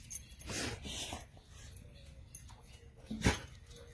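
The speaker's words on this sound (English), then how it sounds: "oops, there's my dogs" Pet dogs whimper and whine indoors, with a few soft yips and one sharper bark near the end, fairly close but quiet, with brief faint speech.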